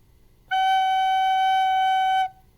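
A recorder sounds a single sustained note G, fingered with the thumb and three fingers, steady and clear for nearly two seconds, close and alone with no talk.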